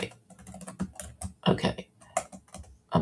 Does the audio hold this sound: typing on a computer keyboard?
yes